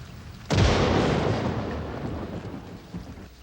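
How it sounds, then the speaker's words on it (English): A sudden loud thunderclap from a thunderstorm in the horror video game Demon Keeper, cracking sharply and then rumbling and fading over a few seconds. "Just an electrical storm"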